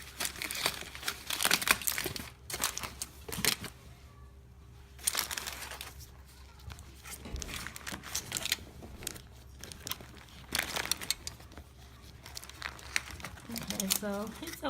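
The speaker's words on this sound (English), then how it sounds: "I just wrapped the wig up in foil to boost the process, and I'm just gonna peek at it" Aluminium foil is unwrapped from a freshly dyed wig, giving a run of close crinkling and crumpling bursts in uneven clusters with brief pauses.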